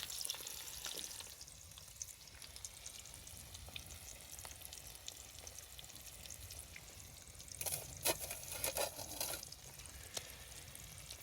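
Eggs fry in a pan with melting cheese on an off-grid winter desert campsite, giving a steady, soft sizzle with occasional scrapes and stirring sounds.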